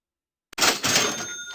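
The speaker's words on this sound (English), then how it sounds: "Let's hear the cash register." A cash register sound effect on a trading livestream: after silence, one bright ring-and-drawer jingle bursts in loudly and rings on for about a second, with no talk over it.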